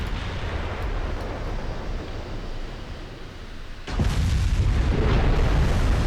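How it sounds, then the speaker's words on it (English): Massed naval guns from a line of warships fire continuously at a target in a video game, a dense rumbling barrage that swells louder with a heavy boom partway through. "Whole line just firing at it constantly."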